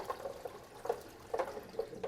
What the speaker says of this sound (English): I'm going to stop and listen for the bubbling. That means all the seals are in place.